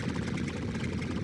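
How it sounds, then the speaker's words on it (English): A Junkers Ju-87 Stuka engine idles in the X-Plane flight simulator, a steady low droning rumble with a faint propeller pulse, held at an even level throughout. "Shut off that engine."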